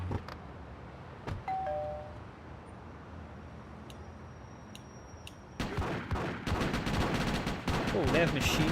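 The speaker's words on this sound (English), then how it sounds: "Oh, they have machine guns now?" Machine gun fire in the video game GTA: Chinatown Wars, sparse shots and game tones at first, then a dense rattling burst of automatic gunfire over the final few seconds, with no talking.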